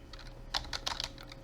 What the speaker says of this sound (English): Alright, so I'm typing in,